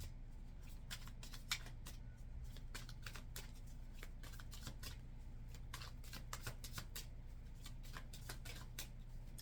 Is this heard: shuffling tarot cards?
yes